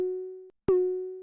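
A heavily filtered 808 synth tone plays alone, stripped of its other layers: a sustained low note runs half a second, breaks off briefly, then a second note enters with a sharp bright attack and rings steadily to the end.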